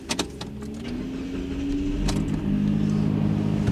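Car engine as the vehicle pulls out of a parallel parking spot, a low steady idle rising into a sustained hum after a couple of sharp clicks at the start, close and moderately loud.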